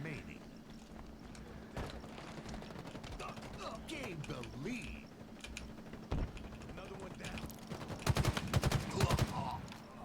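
Bursts of gunfire from the Halo video game crackle in rapid clusters, growing denser and louder toward the end, while a player talks throughout over the game action.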